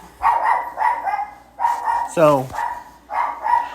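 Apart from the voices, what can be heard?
dog barking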